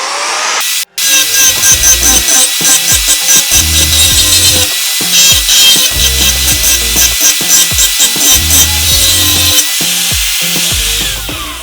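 ENON XE-4002 angle grinder with a grinding wheel working on metal, a loud, close, high whining grind that starts after a brief gap and pulses rhythmically as the wheel bites and eases.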